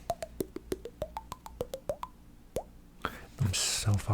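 A voice mimics the GameCube startup tune as a rapid, evenly spaced string of close, wet mouth plops with shifting pitch, one final pop, then soft whispery breath and mouth sounds.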